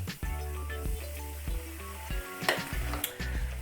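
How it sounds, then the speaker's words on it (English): Banana fritters drop into hot oil in a pot, sizzling and bubbling up close with irregular bursts of frying and a few soft clinks, no voices. "It's frying immediately."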